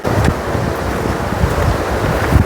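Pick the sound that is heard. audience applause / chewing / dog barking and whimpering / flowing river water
flowing river water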